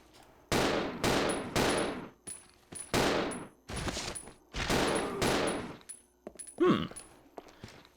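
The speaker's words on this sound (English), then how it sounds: "What a fast gun." Rapid bursts of gunfire from a fast-firing gun in Resident Evil, several loud clusters of shots, each a few tenths of a second long, separated by brief pauses, followed by a metallic clank near the end.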